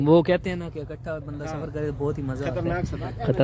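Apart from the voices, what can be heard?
No distinct noise like a dog, phone or traffic.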